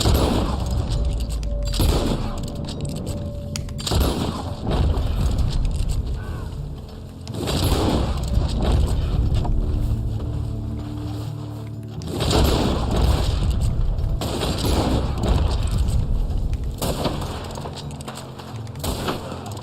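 Springfield rifle shots in the online video game Red Dead Online: several heavy booming reports spaced a few seconds apart over a steady rumbling game background.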